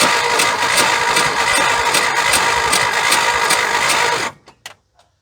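A 1976 Ford F150, abandoned for over thirty years, cranks hard and fast on the starter for about four seconds with a rapid, even chugging, then cuts off into silence broken by a few faint clicks.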